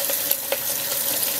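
Tap water runs steadily over a brush being rinsed on a Sigma Spa brush cleaning mat, a soft continuous splash with a couple of faint taps, no talking.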